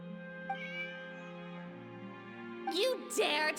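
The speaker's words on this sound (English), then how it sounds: "It's a cat!" Cat meowing in the game Genshin Impact, a clear drawn-out meow followed by a couple of higher, wavering cries, close and fairly quiet, with light talk at the end.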